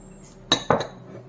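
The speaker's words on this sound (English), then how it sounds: "In goes our tomatoes." Tomatoes dropped into a bowl, two quick clinking knocks in close succession, crisp and near against a quiet background, no voices.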